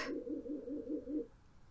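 Pigeons give a soft, faint cooing call of about six quick pulses, followed by quiet.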